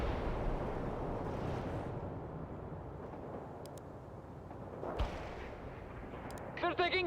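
Battle gunfire and artillery in a World in Conflict game, distant rumbling barrage with a few sharper booms and pops, ending in short bursts of clipped radio chatter.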